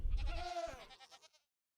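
Goats in Minecraft let out one drawn-out, wavering bleat that is loud and close, then fades away to silence.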